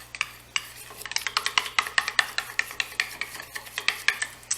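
A spoon stirs mayonnaise with Worcestershire and A1 sauce in a bowl, making a quick run of close, wet scraping strokes with light clinks against the dish, steady and rhythmic with no voices.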